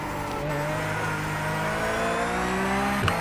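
Sim racing car engine in a video game under steady throttle, a loud, even rising engine note sustained throughout and ending in a brief sharp shift at the close.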